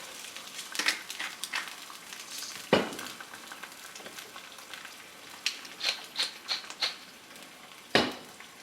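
An egg frying in butter in a pan, a soft continuous sizzle dotted with sharp crackles and pops, several clustered near the end, with no talking.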